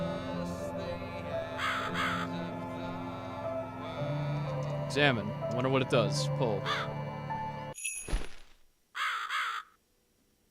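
A crow in the video game The Cat Lady caws in repeated harsh calls, fairly loud, under a droning game soundtrack while a person talks over it.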